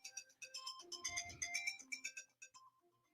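A phone ringtone playing a melodic electronic tune, a quick series of bright tones, fairly faint and with no voices over it.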